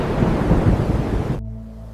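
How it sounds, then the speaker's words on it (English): A thunderstorm approaching at sea rumbles as a loud, low roar mixed with wind and surf, then cuts off abruptly into a faint hum. "The approaching storm made further exploration extremely dangerous."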